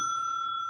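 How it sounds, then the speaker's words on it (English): The bell of an electromechanical pinball machine, struck by an electromagnet coil, gives one bright metallic ding that rings on steadily with a clear sustained tone. "and it rings the bell"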